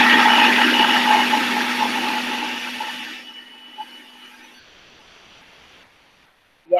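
A countertop blender whirs loudly while blending strawberry frozen yogurt, a steady motor drone that winds down and fades to near silence, ending with a brief sharp clunk.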